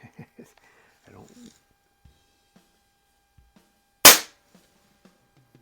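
A single sharp shot from a chrome Barra Schofield 7-inch CO2 BB revolver, a loud close crack standing out against a quiet room, with faint handling clicks and a brief murmur of a voice earlier.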